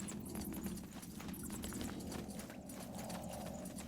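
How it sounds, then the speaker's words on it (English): Footsteps in the medieval fantasy game SpellForce 3, a quick run of rhythmic hoof-like clopping treads, moderately faint and steady, with no voices over them. "Do you hear that? Footsteps."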